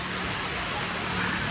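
Steady rain hisses loudly and close during a motorcycle ride near Bawen, a dense unbroken wash of drops with no clear pauses.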